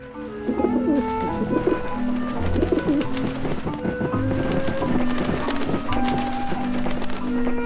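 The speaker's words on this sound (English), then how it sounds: "See if the pigeons are gonna come flying over." In the video game Grim Fandango, several pigeons coo in overlapping calls over continuous background music, with soft fluttering and shuffling sounds as the birds move about.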